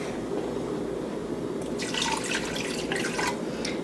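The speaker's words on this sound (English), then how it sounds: "You have to add water with the seasoning mix anyway, so I just go ahead and add it now instead of later." Water poured into a pan of browning meat that is already sticking to the bottom, giving a steady close sizzling hiss with bursts of splashing and bubbling partway through.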